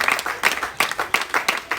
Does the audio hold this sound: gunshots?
no